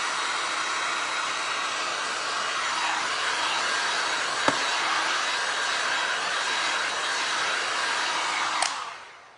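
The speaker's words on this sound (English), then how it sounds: "I'm gonna hit this with a blow dryer just to make sure that ink is dry, just for 5 seconds" A blow dryer runs steadily for several seconds, drying ink on a glass and resin art piece: a loud, even rushing whoosh with a brief click midway, then it switches off and winds down at the end.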